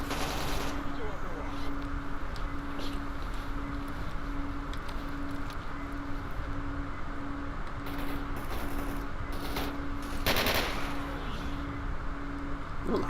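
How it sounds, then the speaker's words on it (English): Bursts of automatic gunfire from a firefight in the STALKER Anomaly game rattle on continuously at moderate distance, with heavier shots standing out near the end, while a person talks over the shooting. "Oh, they're under fire."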